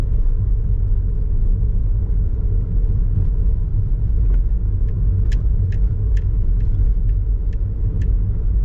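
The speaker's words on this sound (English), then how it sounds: "I think we've been in the tunnel for a while, but we can only go about 40 kilometers an hour." A car drives through a road tunnel in Macau at about 40 km/h, a loud steady low rumble of engine and road noise with faint ticking clicks near the end.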